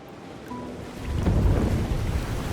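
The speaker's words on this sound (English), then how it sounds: "The door bursts open, a powerful wave of water crashing down towards you" A powerful wave of water bursting through a door and crashing down in the video game Slay the Princess, a rising rumbling surge that swells loudly and then roils on.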